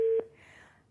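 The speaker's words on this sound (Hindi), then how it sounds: "ये मैं फोन बंद करती हूँ" As a phone call is hung up, a short steady telephone line tone sounds clearly, then cuts off and leaves a faint background.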